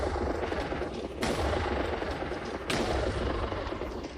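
Rapid mechanical gunfire from a modded weapon in Minecraft with Oritech, a dense continuous rattle with two sharper bursts standing out, loud and close with low rumbling underneath.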